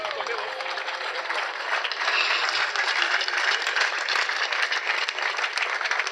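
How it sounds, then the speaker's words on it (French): An audience gives an artist a standing ovation, with loud, sustained applause filling the room. A few voices call out beneath the steady clapping. "Debout, et que nous puissions acclamer fortement l'artiste."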